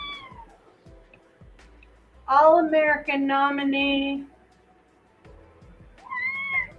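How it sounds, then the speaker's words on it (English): A cat meows loudly and close in a long wavering cry, then gives a shorter meow a couple of seconds later, with a person talking briefly around it. "I'm about to drop my cat, sorry."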